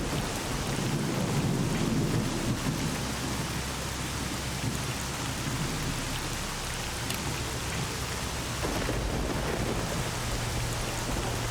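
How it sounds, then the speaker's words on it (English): Heavy, steady rain pours through a thunderstorm in the S.T.A.L.K.E.R. Call of Pripyat video game, with low thunder rumbling beneath the constant loud hiss of rainfall. "in the middle of a thunderstorm, just like this"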